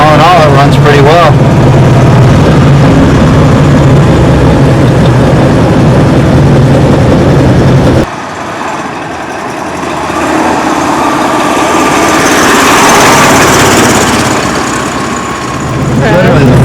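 A Saab 96 on its first road drive in 30 years: a steady, loud engine drone runs throughout, shifting in tone partway through as the car is driven.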